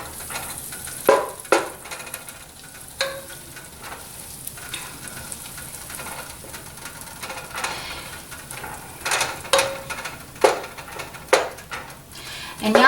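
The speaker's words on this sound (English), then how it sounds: "get all this butter melted up in here" Butter melts and sizzles in a warming pan on a stovetop eye, a steady close frying hiss with occasional clinks and stirring sounds, no talking.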